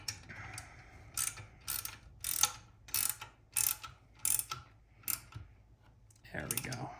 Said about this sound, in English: I'm just gonna use the wrench to tighten this up a little bit